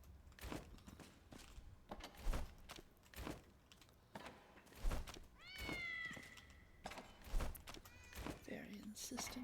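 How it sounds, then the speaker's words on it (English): A cat meows repeatedly and insistently in a game setting, rising whines over a rhythm of thumping steps and other game sounds, with someone talking throughout. "very insistent cat"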